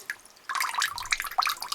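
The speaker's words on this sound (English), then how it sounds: "So it's probably a good thing that we're just kind of draining the tank." Water draining from a well pressure tank that holds iron and rust sediment, heard as a close, irregular run of drips and splashes, with sparse trickling at first and then denser, louder spattering.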